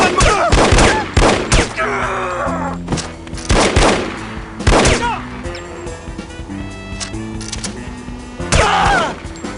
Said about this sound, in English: Look out for the bullets!